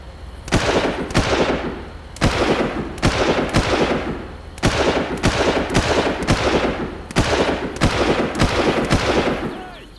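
Machine gun fire in Far Cry comes in repeated loud, close bursts of rapid shots, each burst lasting about a second and separated by short pauses.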